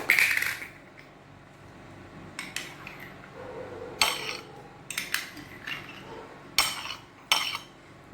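A small bottle of egg yolk is scraped out with a utensil for a homemade face cream, giving intermittent close clinks and taps against glass, spaced over several seconds with quiet pauses between.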